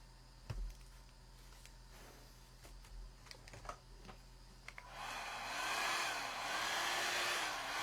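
Faint clicks and handling noises, then a hair dryer switches on and blows steadily with a wavering whir, drying freshly painted nails at close range.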